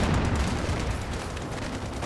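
Rocket salvo fire from Company of Heroes 2, a dense, rumbling barrage of launches and blasts rolling steadily throughout with no pause, loud and close.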